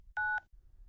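A single short telephone keypad tone for the digit 1, a clean two-pitch beep lasting about a quarter second before falling silent.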